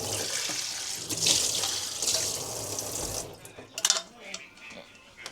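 Tap water runs steadily into a sink as food is rinsed, then stops, followed by a few clinks of dishes and light handling noises close by.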